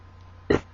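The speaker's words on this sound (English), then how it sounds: "there's a big burp" A person lets out one short, loud burp in an otherwise quiet indoor space.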